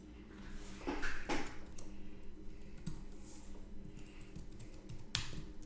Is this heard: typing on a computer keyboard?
yes